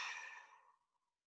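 A single long, audible exhale during a qigong breathing exercise, breathy and close, starting strong and fading gradually into silence.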